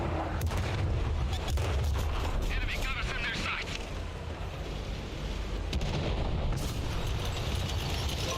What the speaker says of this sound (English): Artillery, on the other hand, did not back off.